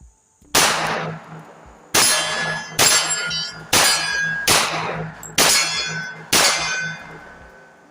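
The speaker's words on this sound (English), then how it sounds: "it's smashing these steel targets, man" Seven sharp metallic clangs from .45 Auto pistol rounds striking steel targets, each ringing and decaying before the next, spaced roughly a second apart, loud and close with no talk.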